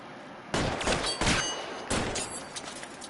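Close, loud shotgun blasts ring out in the video game LA Noire: three heavy booms about a second apart, each trailing off into echo, with fainter shots following.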